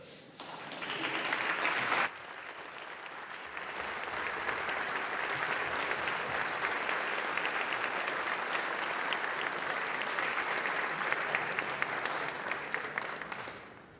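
A House chamber audience breaks into sustained applause welcoming a former representative, a dense crowd clapping that swells after a brief start and holds steady for over ten seconds.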